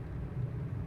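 A Camair 480 twin Navion engine drones in Microsoft Flight Simulator as power is brought back in, a dense, steady low rumble that holds even and loud with no voices over it.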